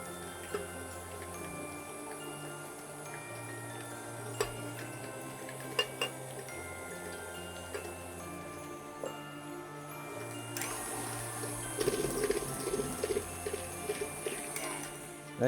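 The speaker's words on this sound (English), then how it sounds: "Now there is like the dough, but I will beat a little bit more." Cake batter with golden raisins to come being beaten in a bowl, a steady clatter of utensil against the bowl with small clinks and ticks that gets busier toward the end, no talking.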